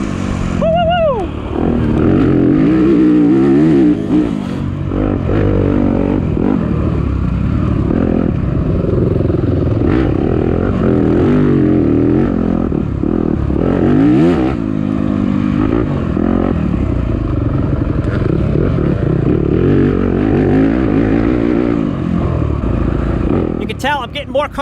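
A stock Yamaha YZ250F dirt bike races in a harescramble at NYOA Round 1, its engine loud and close, constantly revving up and down with gear changes and rattling over rough ground.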